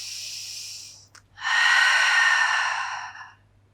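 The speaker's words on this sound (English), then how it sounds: "Two more breaths." Slow deep breathing during an intermediate Pilates mat exercise: a long airy exhale, a brief sniff-like catch, then another long breathy outflow, close and soft with no talking.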